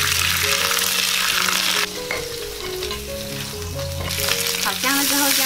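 Pig trotters stir-fried in a hot wok, a loud steady sizzle with scraping stirs, briefly dipping before flaring up again, with no voices.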